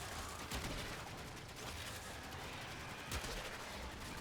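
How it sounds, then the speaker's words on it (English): The Azima, a rapid-firing gun in the video game Warframe, lets off a steady stream of shots with sharper cracks at a couple of moments. "I love my Azima. It is a silly gun."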